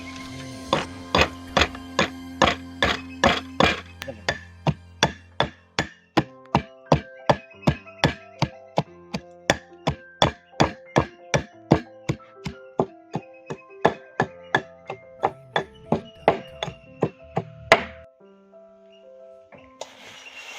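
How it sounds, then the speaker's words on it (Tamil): Onion and garlic pounded with a pestle for a Sri Lankan palmyra sprout thogayal, dozens of loud, evenly spaced thuds in a steady rhythm, close up, with no speech. "இப்போ நாங்கள் வெங்காயம், உள்ளி எல்லாம் போட்டு இடிப்போம்"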